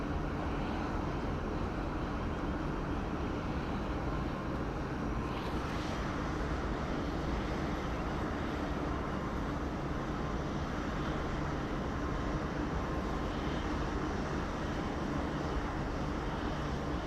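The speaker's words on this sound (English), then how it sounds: "Singapore Airlines A350-900 inbound now from Singapore" A Singapore Airlines A350-900 airliner taxis in from Singapore onto the T1 apron at Sydney Airport, a steady, continuous broadband engine roar and rumble with no break, fairly distant and alone.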